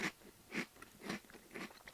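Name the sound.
chewing a crunchy butter-corn flavored rice snack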